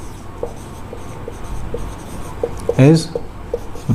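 Pen scratching across paper in steady short strokes during a Class 10 maths lesson, faint and close, with a teacher's voice speaking over it.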